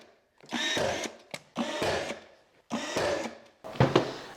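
Sharp bursts from a power nailer driving nails into painted trim boards beside wall outlets in a fixer-upper living room, four loud separate bursts with short pauses between them.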